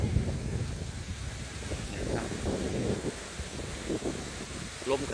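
Strong wind buffets the microphone at a Mekong river port, a continuous low roar with gusty swells and rustling, with a voice faintly in the mix.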